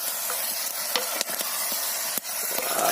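Shrimp with kamias fries loudly in a pan, a dense close sizzle broken by several scraping strokes of a utensil stirring the mixture.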